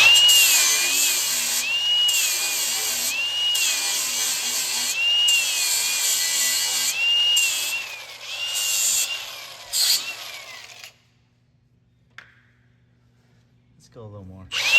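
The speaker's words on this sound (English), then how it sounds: "so I just need to sand it off a little bit" A power sander grinding down a metal tab on a Toyota pre-runner bumper in a shop, a loud continuous whine with pulsing pressure changes for about ten seconds, then it stops and near-silence follows.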